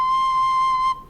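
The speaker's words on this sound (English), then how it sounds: "So our new note C will sound like this." A recorder sounds a single high C, steady, clear and whistle-like, held for about a second before it cuts off.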